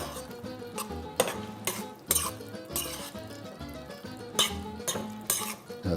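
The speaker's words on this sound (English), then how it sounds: "Then I'm going to mix in the mozzarella, the shredded mozzarella." A spoon stirs shredded mozzarella into a cheesy dish, scraping and knocking against the pot in irregular strokes with several sharp metallic clanks.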